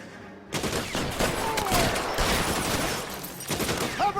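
Rapid bursts of gunfire crackle loudly in the L.A. Noire video game shootout, dense overlapping shots starting abruptly after a brief quiet moment and continuing nonstop to the end.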